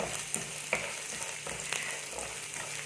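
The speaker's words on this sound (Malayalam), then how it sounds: "ഈ അരിഞ്ഞു വെച്ചിരിക്കുന്ന ബദാമും കിസ്മസും നമുക്കൊന്ന് ഫ്രൈ ആക്കി എടുക്കണം." Chopped almonds and raisins fry in a pan with a steady, bright sizzle, punctuated by a few sharp clicks and taps of stirring, close and continuous without talk.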